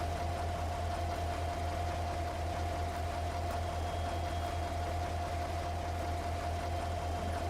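A fire truck engine in Farming Simulator 22 runs at a steady, even idle with a constant low drone and a faint whine, with no speech over it.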